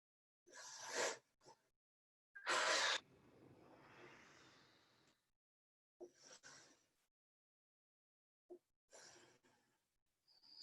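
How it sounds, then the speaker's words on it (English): Deep breathing in a hatha yoga class: slow, airy inhales and exhales close to the mic, a few strong breaths followed by softer, fainter ones separated by quiet gaps. "So let's just do deep breaths."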